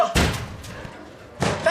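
Someone bangs on a locked door in a few loud thuds: a burst of knocks at the start, a pause, then more hits near the end, with a voice shouting in between.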